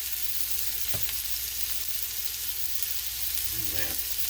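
Smash brisket burger patties sizzle on a hot griddle with a constant dense hiss, close and loud, broken by a couple of brief utensil taps near the end.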